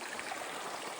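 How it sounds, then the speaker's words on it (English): A mountain creek at a trail crossing in Kananaskis, Alberta, flows in a steady close hiss of rushing water, with no talk. "Creek crossing, no bridge."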